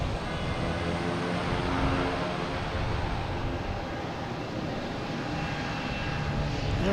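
An Airbus A350-900 jet airliner arriving from Doha at Boston Logan Airport gives a steady, broad engine roar that stays loud and even throughout, with no talk over it.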